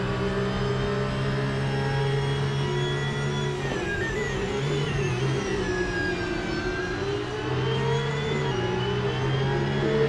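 A Porsche 911 GT3 992 Cup race car's engine, heard onboard during a race, holds a loud, steady high-revving drone that rises and dips slightly through gear and throttle changes across the whole stretch.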